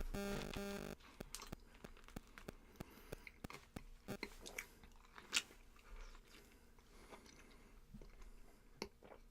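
Someone chews and bites into a fruit close to the mic during a podcast eating challenge, with wet crunchy bites and soft squishes coming in an irregular rhythm after a short burst of noise at the start.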